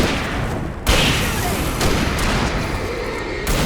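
Gunfire in Alan Wake: repeated loud shots and heavy bursts crack over a dense, noisy background, several sharp hits spaced through the span.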